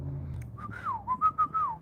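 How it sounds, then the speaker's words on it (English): A person whistles a short, distinctive family signal: a sliding rising-and-falling tone followed by a few quick, clear notes. It sounds close and plays alone over faint background hum. "Teach them a whistle that only y'all can do"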